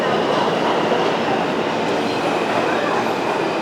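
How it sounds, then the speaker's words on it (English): A New York subway train rolls through 23rd Street station, a loud continuous rumbling roar of wheels and cars close by with a faint hint of squeal. "And here's my train now."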